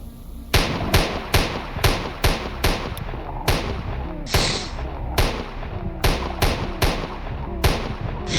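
Rapid bursts of gunfire in a modded Minecraft server, loud and close, firing in a steady rhythm of sharp repeated shots across the whole stretch.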